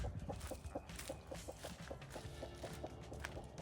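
A hen named Peach clucks near her coop, a run of soft, evenly spaced clucks at a moderate distance over faint rustling and footstep-like sounds, with no talking.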